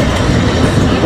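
Brussels tram motor car 984 of the Société des chemins de fer économiques, built in 1906, rumbles along its rails in a loud, steady, close roar with continuous wheel and track noise.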